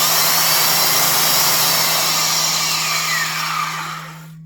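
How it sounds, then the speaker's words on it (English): A Porter-Cable 5 amp, 8000 RPM plate joiner running with a loud, steady motor whir and a fixed low hum, holding level before winding down and cutting off at the end, with no talking. "A little bit more of a classic sound to this 5 amp 8000 RPM version, which I also use as a belt drive."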